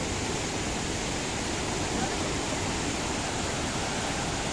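Rushing river stream near a waterfall at a camping ground in Sukamakmur, a steady broadband wash of flowing water that holds constant and close throughout, with no voices.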